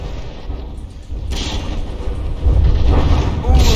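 Heavy booming cannon fire and impacts from battleship guns in From the Depths, a naval combat game; dull thuds swell into louder blasts over a continuous rumbling battle backdrop.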